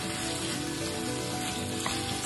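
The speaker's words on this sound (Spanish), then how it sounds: "le vamos a añadir medio kilo de carne picada. La dejamos cocinar" Minced meat frying in a pan with onion, garlic and carrot, a steady close sizzle and crackle throughout with no talking.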